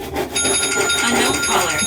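Phone ringtone plays with a steady repeating electronic tone pattern, fairly close and loud, mixed with background chatter and scrubbing noise during an old broken toilet replacement.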